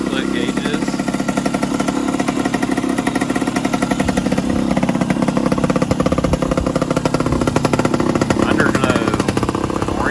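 A Suzuki TS185 motorcycle engine runs loud and close, with a fast, even, chugging pulse that holds steady for the whole stretch.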